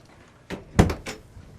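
Household door swinging open with a couple of knocks and a wooden clunk, a short cluster of close, fairly loud impacts.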